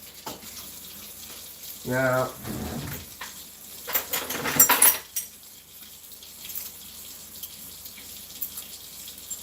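Water runs from a kitchen tap in a short burst, then again more loudly a couple of seconds later, with a brief spoken word and quiet room noise around it.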